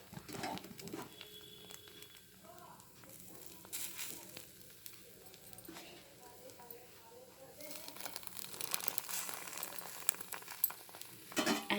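Bread slices topped with cheese sizzle softly on a hot tawa over a lowered flame, a faint crackle and scrape that grows busier toward the end, with quiet background noise.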